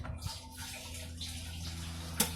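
Gasoline draining out of a 2004 Dodge Ram 5.7L fuel tank during a fuel pump replacement, a faint trickling, splashing flow with one brief louder splash near the end.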